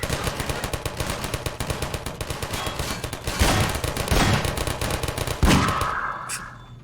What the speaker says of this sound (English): these turrets are doing really good work for me, though